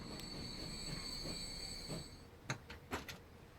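A train rolls along in Transport Fever 2, a steady rumble with high wheel squeal ringing over it, followed by a few sharp clanks near the end.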